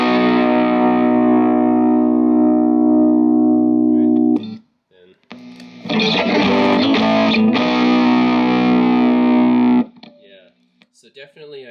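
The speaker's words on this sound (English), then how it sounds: "So definitely I do hear more of a low end on the TOD9." Electric guitar driven through a Maxon TOD9 tube-powered overdrive pedal, loud and full-bodied: a long sustained distorted chord ringing out, a short pause, then a busier burst of strummed, driven chords before fading into sparse picking.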